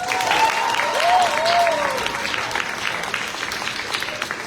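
Audience clapping steadily at an Estonian school championship final in Tartu, a broad sustained burst of applause over a few seconds with a voice briefly heard over it.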